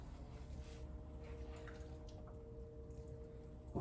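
Water drips and squishes as clay is wetted on a spinning pottery wheel, a soft wet patter over the low steady hum of the wheel, close and fairly faint with no talking.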